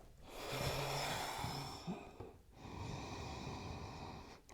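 During a vinyasa yoga session someone takes deep breaths, two long airy inhale-exhale passes close to the mic, one brief pause between them, with no talking.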